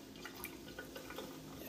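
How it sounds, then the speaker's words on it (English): Water drips and trickles as it is drained off a can of mackerel, a short run of soft, close splashes and drops over a steady faint hum. "What you have to do, you have to go ahead and drain it. Pull all the water off"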